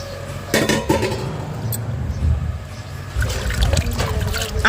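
Water splashing and trickling as wheat is rinsed clean by hand, uneven sloshes and pours close by, with soft background voices.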